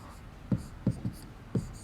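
Chalk or marker strokes on a classroom board, a few soft taps and scrapes spaced unevenly, faint under light room noise.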